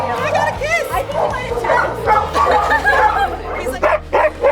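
A rescue dog on a road trip yips, barks and whimpers in quick excited bursts close by, with several people chattering over and between the dog's sounds.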